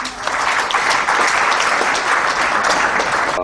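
Audience applause fills a book launch in Nepal as a senior journalist is welcomed, steady dense clapping from a room full of people, loud and sustained throughout with no talking over it.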